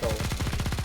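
An LMG in the Nikke video game fires a rapid, evenly spaced burst of shots, loud and continuous through the short moment.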